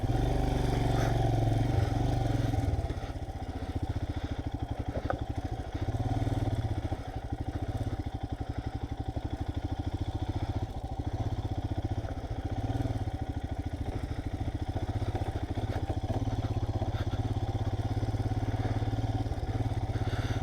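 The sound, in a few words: rented motorbike riding off-road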